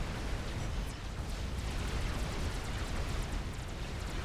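A nuclear missile fired from a strategic missile launcher explodes in Supreme Commander, a real-time strategy game, producing a loud, sustained roaring rumble with crackling bursts throughout and no voices.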